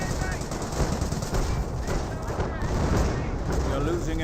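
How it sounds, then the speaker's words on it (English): A Company of Heroes battle rages with rapid machine-gun bursts, rattling gunfire and artillery booms in a dense, continuous barrage. A voice talks over the din. "Artillery barrage."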